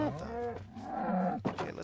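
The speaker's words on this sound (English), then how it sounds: "There's a cow out here." A Minecraft cow gives a drawn-out, wavering moo, near and clear, lasting under two seconds with a short second lowing at the end.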